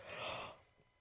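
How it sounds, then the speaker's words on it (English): A single long, breathy yawn, loud at first and trailing off after about half a second into quiet exhalation, close to the ear with no talk. "Sorry, I cannot stop yawning."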